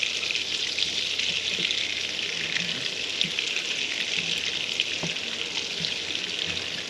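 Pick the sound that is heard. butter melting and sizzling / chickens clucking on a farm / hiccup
butter melting and sizzling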